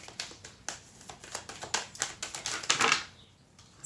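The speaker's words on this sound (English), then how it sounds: "3 cards flipped over, a bunch of cards flipped out" Tarot cards flipping and spilling out of a deck, a quick run of light papery flicks and slaps building to a denser flurry before going quiet.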